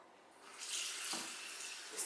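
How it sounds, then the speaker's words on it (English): Running tap water splashes steadily over chopped beef at a kitchen sink, a continuous close hiss that swells slightly as the meat goes under the stream. "Just give it a little rinse."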